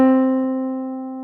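One sustained C4 note from an online virtual keyboard, a clean electronic tone that sounds alone and slowly fades over about a second.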